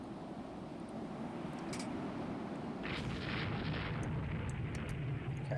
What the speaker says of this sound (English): I heard a torpedo fire